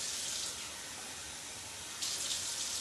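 Steady water running from a tap while a drink is poured, continuous and fairly close, brightening slightly partway through, with no voices.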